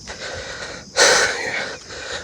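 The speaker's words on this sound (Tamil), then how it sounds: "மூச்சு வாங்குறேன், மலை ஏறிடுறோம்." A man climbing a hill on a worm-digging trip before fishing breathes heavily and close, with wheezing inhales and exhales, the loudest a harsh gasp in the middle.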